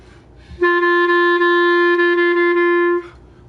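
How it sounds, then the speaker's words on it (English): A B-flat clarinet sounds a single steady sustained open note, concert F, for about two and a half seconds, clear and close, then stops. "here's a B-flat clarinet"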